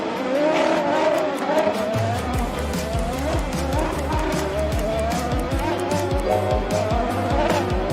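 Race cars roar around a six-lane track in a steady, loud stream of engine noise, with repeated pass-by whooshes and rising revs throughout.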